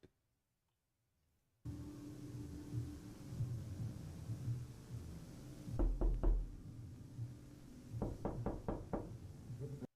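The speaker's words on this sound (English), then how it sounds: "every time I hear the knocking, it's knocking in one ear and then the other" Hollow knocking in a Batman analogue horror piece comes in two bursts of sharp raps, a short cluster and then a faster run of about five, over a low rumbling drone.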